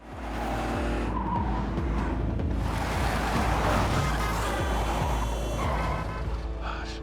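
Car driven recklessly in a film chase scene, engine roaring with long skidding tire squeals over a loud, continuous rush of traffic noise, close and intense, no talking.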